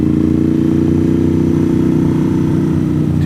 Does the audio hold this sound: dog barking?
no